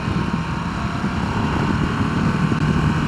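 Continuous rumble of a Harley-Davidson Nightster Special motorcycle being ridden, engine drone blended with heavy wind rush at steady speed, no voices.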